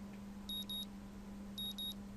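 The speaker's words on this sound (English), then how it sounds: "the sound of my alarm quickly has me up and about" A bedside alarm clock in the Katawa Shoujo visual novel beeps in two quick pairs of high, thin electronic pips, separated by a pause, over a steady low hum.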